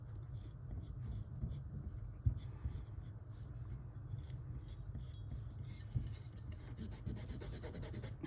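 An alcohol wipe rubs over a Super Game Boy circuit board during cleaning, making a steady, soft scratchy rasp with a few small clicks and no talk.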